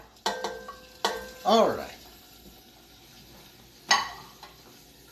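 Sausage drops into warming oil in a pan, a soft sizzle broken by sharp utensil clunks and a scraping stir, with someone briefly speaking near the end.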